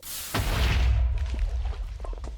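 A creeper blows up in Minecraft with a sudden loud boom that rolls into a rumbling decay and scattered debris pops, close and dominant, with no talk over it.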